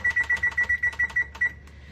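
A kitchen timer beeps close by in a steady run of about a dozen short, evenly spaced electronic chirps, then falls silent.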